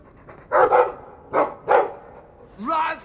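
A dog in the video game Dragon Age II barks four times in two close pairs, loud and near, followed by a brief vocal-sounding whine.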